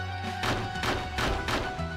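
Bomb blasts in the side-scrolling video game Chronicles of the Wolf: several dull thudding impacts land roughly every half second over steady game music, moderately loud and close.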